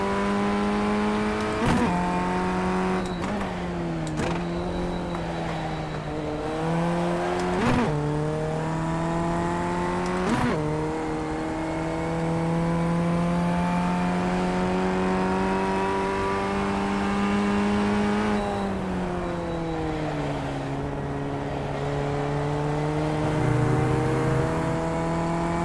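A race car engine in a racing video game time trial drones steadily at high revs, with sharp gear shifts and pitch drops breaking the whine and brief tire squeals.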